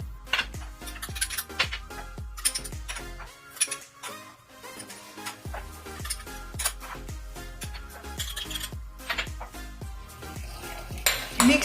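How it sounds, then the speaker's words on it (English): Seasonings are stirred together in a bowl with a utensil, giving repeated sharp clinks and scrapes against the bowl in an uneven rhythm, close and fairly clear. "Combine seasonings in a bowl."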